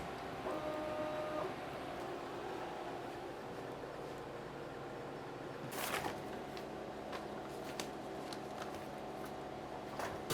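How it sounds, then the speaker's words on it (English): Laser engraving machine working on a knife blade, a low steady mechanical hum with faint whirring and a few short ticks and clicks partway through, no talking. "put it into the laser machine"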